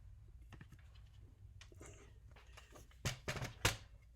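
White cardstock cut with a paper trimmer, faint scraping and soft clicks building to two sharp louder slicing strokes near the end, close and quiet with no talking.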